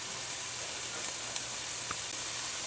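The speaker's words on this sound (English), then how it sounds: "So I'm just going to let this saute in here for a few minutes until the onion is tender." Chopped onion sautés in garlic-infused oil with herbs and paprika, a steady soft sizzle and hiss in a pan with a few faint pops, close and even.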